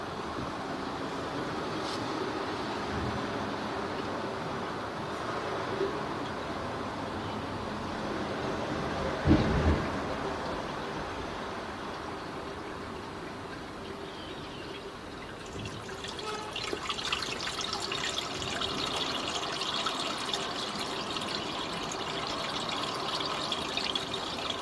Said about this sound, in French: Ça a l'air d'être un écoulement normal d'un évier